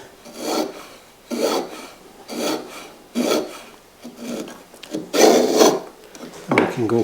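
A hand plane set to its depth stop shaves thin feathers of wood from a workbench tenon, with seven rasping strokes separated by short pauses, close and loud, ending in a scraping rattle.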